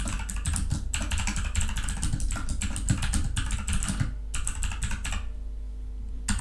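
Computer keyboard keys pressed in rapid clusters while typing in Vim, close clacking strokes that thin out near the end.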